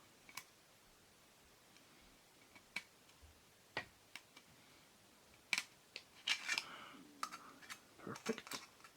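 Thin metal from an old coffee can is snipped for a homemade lantern, producing faint, sharp little clicks and crunches that start sparse and quicken into a busier cluster near the end, with no talking.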